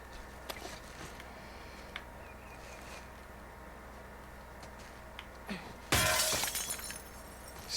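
Glass shatters loudly in The Last of Us Part II, a sudden crash with a spray of tinkling shards that trails off over about two seconds, following a stretch of quiet in-game ambience with faint scattered clicks.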